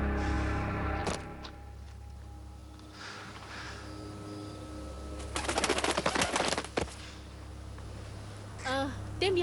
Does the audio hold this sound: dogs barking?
no